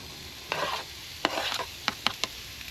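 Jalapeno and onion tossed into a hot pan, a soft steady sizzle under several scraping stirs and a few clicks of a utensil against the pan.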